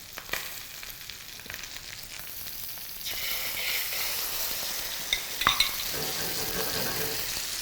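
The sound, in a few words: pomfret fish frying and being stirred in a pan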